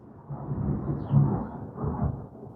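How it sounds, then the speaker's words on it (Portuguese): Thunder rumbles low and distant, a soft, rolling growl that swells and fades across a couple of seconds with nothing else over it. "O microfone tá sem ruído, será que pegou esse trovão?"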